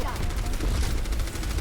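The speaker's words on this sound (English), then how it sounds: "That was a rocket I just fired" Rapid, dense gunfire-like bursts from a rocket weapon fired during Overwatch gameplay, loud and continuous, with a voice talking over the combat.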